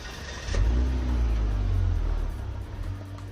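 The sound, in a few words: Volvo XC60 D5 twin turbo engine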